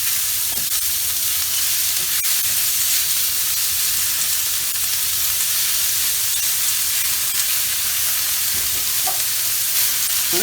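Sliced steak sizzles steadily on a hot griddle for quesadillas, a dense, even hiss of frying with faint scraping stirs now and then and no talking.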